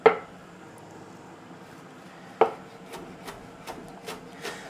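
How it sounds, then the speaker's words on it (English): A knife rough-chopping a bunch of herbs on a board: two firm, close cuts followed by a few softer, quicker chops, fairly quiet with no talking. "So I'll just give that a rough chop at first."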